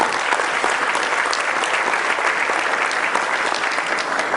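An audience at a Morehouse School of Medicine honors event bursts into sustained, loud applause for the honorees, dense clapping holding steady throughout.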